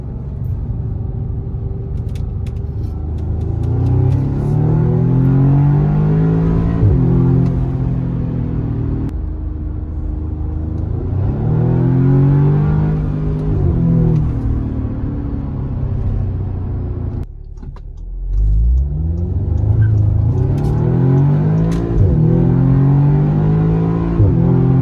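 An Audi S3 driving on the road, its engine rumbling steadily and revving up through the gears, with the pitch rising again after each shift. The engine is heard close from inside the car, with no talk.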